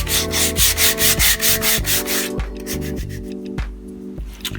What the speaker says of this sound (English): we got it all sanded to get our rustic look